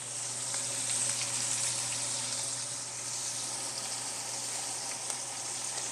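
Steak sizzles and fries steadily in a hot pan, a dense, even crackle holding at a constant level throughout with no voices over it.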